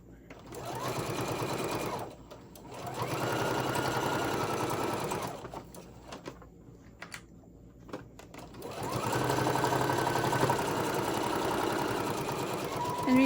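A sewing machine stitches a Halloween-themed treat tote bag in two long steady bursts of fast whirring with a pause between, close and clear, with some faint speech during the quieter gap.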